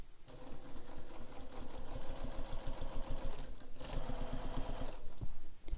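A sewing machine stitches a backpack panel, running steadily close up with rapid rhythmic needle clatter, a brief pause midway, then resuming for another burst, with a back stitch.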